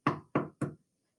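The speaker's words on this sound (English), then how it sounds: "They knocked on Jim's door." Three sharp knocks on a door, close and evenly spaced, then silence.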